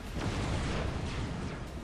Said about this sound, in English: We've got the last cannons firing away.